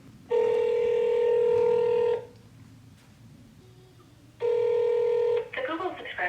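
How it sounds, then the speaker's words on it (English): Outgoing telephone call placed to a buyer in Ohio: two long, loud ringback tones separated by a quiet gap, with a brief burst of dialing or connection noise after the second ring. "I'm about to make some phone calls to some cash buyers out in Ohio"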